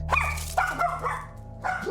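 A dog barks close by in a tense indoor scene, three sharp barks with a whimpering edge spaced across about two seconds over a low hum.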